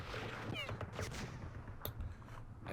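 Small-arms gunfire aimed at an exposed machine gun in Campaign Series Vietnam, Battle of Ap Bac: a short burst of crackling shots, then a single sharp report, all over a continuous rumbling battle ambience.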